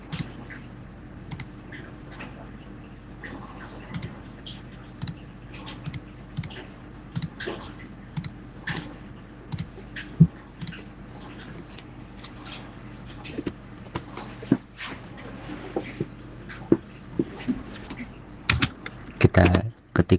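Router configuration commands typed on a computer keyboard produce irregular bursts of close, crisp key clicks over a faint background hum, with sharper, louder strokes near the end.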